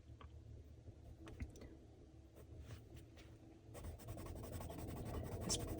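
Colored pencil scribbling on paper with firm pressure, a soft continuous scratchy rasp with quick strokes, growing denser and louder toward the end, close and alone with no talking.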